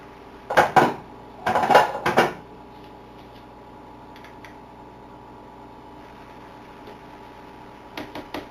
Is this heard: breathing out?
no